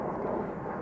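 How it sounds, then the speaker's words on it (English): Airplanes passing overhead make a dense, steady roar that fills the moment without a break. "You can hear the planes above me."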